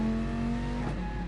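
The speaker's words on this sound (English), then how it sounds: "So then you're going to go down to second gear in the Viper." A Dodge Viper engine in a racing video game drones steadily with a strong low hum, then briefly dips and shifts pitch as it drops down to second gear.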